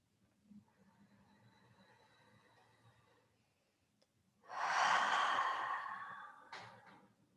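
Slow yoga exhale, a long breathy rush close to the microphone that swells and fades over about two seconds, following quieter breathing and a faint hum.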